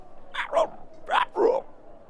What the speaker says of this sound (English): There's a dog.